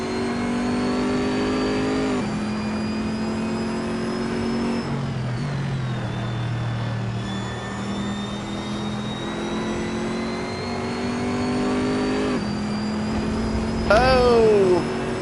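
A race car engine in Assetto Corsa, played on PS4 with a DS4 controller, revving continuously through rising gears with periodic shifts, then a sharp screeching whine near the end, with someone talking over it.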